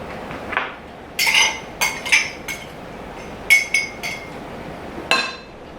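A knife clinks repeatedly against a bowl while bringing buttermilk biscuit dough together, with about ten sharp, irregular taps and scrapes, close and clear over a quiet background.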